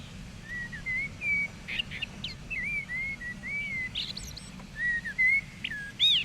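Blackbird singing alone, a series of clear fluting whistled phrases with short gaps between them, close and fairly loud over a low background rumble.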